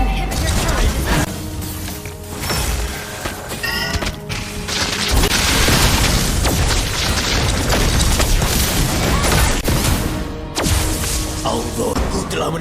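Turret destruction in the Mobile Legends mobile game, a loud booming crash with bursts and blasts that fill the whole stretch over dense game music and effects, with in-game voice lines.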